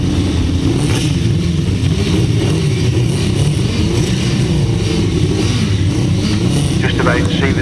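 Four 1000cc sidecar outfits rev together on the start line at a grasstrack race, a loud, continuous engine roar that holds steady throughout, with a voice speaking over it.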